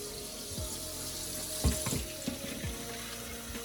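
Tap water runs into a pot in a steady close stream, with a few clunks and knocks of the pot against the sink, while a faint sizzle carries on in the background of a home kitchen.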